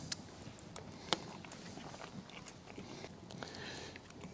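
Someone chews grilled silver carp in faint, close, soft bites and wet mouth clicks scattered irregularly over low room noise.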